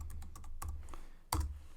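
Quick clicky keystrokes on a computer keyboard in an irregular typing rhythm, close up, ending on one louder final key press, like Enter.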